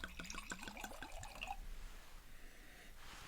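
A drink poured from a liter bottle into a glass: a gurgling, glugging stream of rising bubbly tones for about a second and a half, then a quieter liquid hiss fading into a faint background, close and fairly soft.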